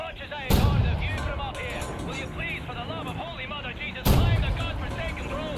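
Explosions and gunfire in the Wolfenstein: The New Order video game: two heavy booming blasts several seconds apart, with a steady rumble of battle noise between them.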